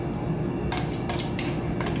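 Soup ingredients of broccoli rabe, sausage and beans set into a bowl, giving a few sharp clinks and scrapes of utensil against dish over a steady low background hum.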